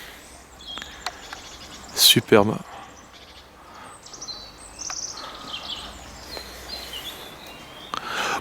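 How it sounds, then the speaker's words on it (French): Birds call and chirp outdoors around a cave hermitage, with a loud burst of song near the middle and fainter chirps scattered throughout, while someone speaks briefly. "Avec le chant des oiseaux"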